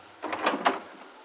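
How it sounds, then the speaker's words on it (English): A front door at a house swings open in one short sweep, a brief scraping creak of a few rising pulses up close, followed by a quiet tail. "as Peggy opens the front door at Aunt Mary's"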